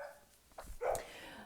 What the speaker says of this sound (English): Cue the pack of dogs outside my window